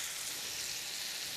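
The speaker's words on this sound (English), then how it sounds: "you're gonna go ahead and pop that down in your melted butter" Sliced onions sizzling in melted butter in a pan, a steady, even hiss of frying with no breaks, close and moderately quiet with no talk.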